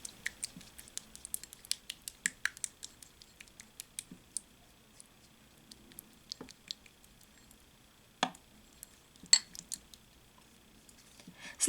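A homemade aspirin face mask being whisked in a small bowl, giving quick light clinks and taps at an irregular rhythm, close and fairly quiet, with no voices.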